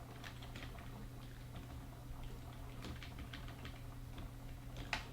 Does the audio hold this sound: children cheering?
no